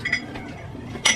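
Glassware clinks against dishes and cutlery during household cleaning, with a faint clatter at the start and a sharper, brighter clink near the end, close and fairly quiet.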